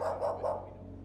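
A dog barks three times in quick succession, fairly close and loud, with the barks fading into a quieter room tone.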